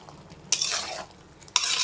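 Tomatoes being stirred in a frying pan while making chicken fry bagara rice: two loud, close scraping and sizzling bursts with a quiet pause between them.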